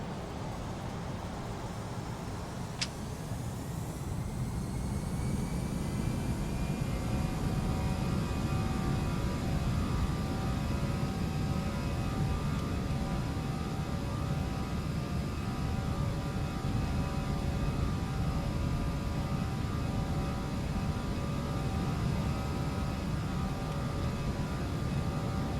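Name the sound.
aircraft taking off from Nice in Prepar3D flight simulator video game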